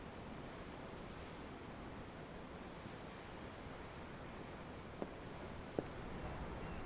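Ocean waves in the video game Tales of Arise, heard from aboard a ship as a faint, even surf wash with light wind, plus two brief clicks near the end.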